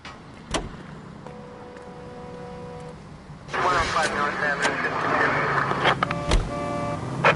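An L.A. Noire car starting up and pulling away, quiet at first with a voice talking, then a louder engine drone and road noise rising and holding steady to the end.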